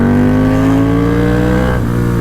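Motorcycle engine revving close and loud, a steady droning tone that holds its pitch and then drops slightly near the end, with no talking.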